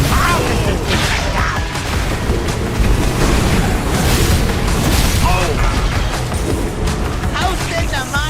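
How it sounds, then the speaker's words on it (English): Booming explosions from bombs in a video game raid boss fight, loud and dense, rolling continuously with game music and effects throughout, no speech over it. "Bomb incoming."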